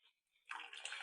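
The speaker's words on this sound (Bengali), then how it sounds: "এবার চা ছেঁকছি।" Hot milk tea poured through a strainer into cups, a brief bright splashing stream that starts after a short quiet moment and runs steadily to the end.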